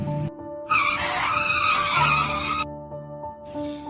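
A car's tires screech in a sudden skid as the vehicle abruptly halts, a loud sustained squeal lasting about two seconds within a cartoon sound effect, with tonal music or hum underneath.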